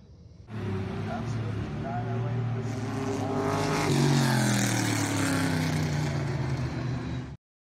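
An Audi R8 German supercar with a high-revving V10 engine drones steadily and rises in pitch as it revs, loud and continuous, with a voice speaking over it.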